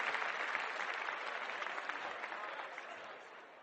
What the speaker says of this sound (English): Basil jumped to his feet and applauded.